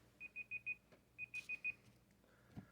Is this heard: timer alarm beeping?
yes